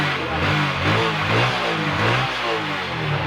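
A small Honda Wave/XRM-type motorcycle engine revs up and down in repeated swells, loud and close, with a throaty low drone and rising pitch sweeps.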